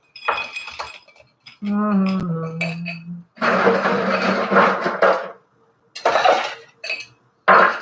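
Rye cocktail with ice shaken in a shaker and glass: clinks and clatter of ice against glass in bursts, close and loud, with pauses between rounds of shaking.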